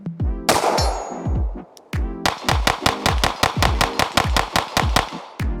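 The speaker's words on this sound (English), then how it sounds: "Let's shoot some other Glocks." Rapid strings of pistol shots from a ZEV OZ9 Hyper Comp Glock, sharp and loud at close range, with a brief opening volley, a short pause, then a fast steady run of about fifteen evenly spaced shots.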